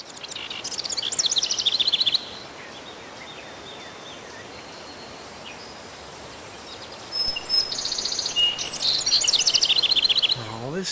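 Short bursts of high chirping birdsong from a video game set in an Aztec city of gold, heard in two clusters with a quieter low hiss between them.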